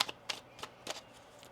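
Tarot cards being shuffled in a few quick riffling bursts, roughly four short papery swishes spaced evenly, faint and close with no talk.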